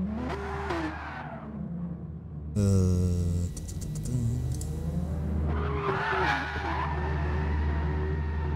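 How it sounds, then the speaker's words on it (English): A race car drifts on the Nürburgring Nordschleife in a Gran Turismo sim league race, with loud squealing tires and a revving engine that sweeps up and down, up close and heard continuously. "We have a bit of drifting here by Nico."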